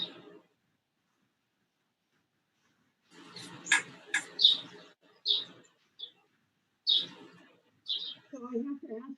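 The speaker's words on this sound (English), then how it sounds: "That bird is so loud." A loud bird sings outside an open window in a series of sharp, high chirps and short trilled phrases with brief pauses between them, heard through a quiet room.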